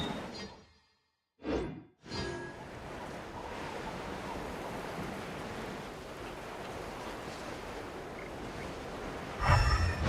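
Surfing over waves in Genshin Impact: after a brief gap and a couple of short whooshes, a steady rushing of surf and water carries on, then swells into a louder splash at the end.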